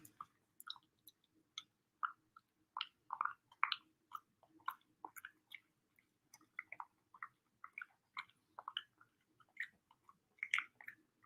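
Sweet potato snacks being chewed close up, a steady run of wet, crunchy bites and smacks in quick irregular rhythm, quiet and with no talking.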